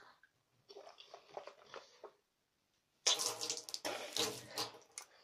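Tap water runs into a sink for face washing, a splashing, hissing stream in two bursts separated by a short silence, close and moderately loud with uneven wet splatter.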